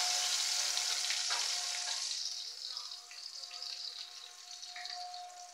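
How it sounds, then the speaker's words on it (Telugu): Chopped onions sizzle and crackle as they drop into hot oil for a tempering, a loud, dense hiss that eases slightly after a few seconds with scattered pops, no voices. "ఆనియన్స్ కూడా వేసేస్తున్నాను తిరగమాటలోకి"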